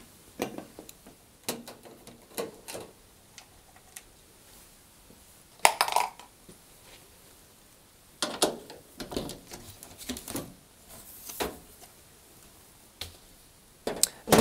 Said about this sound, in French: je vais commencer par retirer le couvercle en dévissant par l'arrière